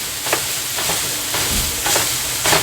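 Chopped cheese cooking on a sizzling griddle, a steady frying hiss broken by a handful of sharp spatula chops and scrapes against the metal, close and fairly loud, with no talking.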